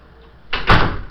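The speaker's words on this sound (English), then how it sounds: "Do you want to shut that door?" A door is pushed shut in an indoor room, making a single close, fairly loud thud with a short rumble. No voices are heard.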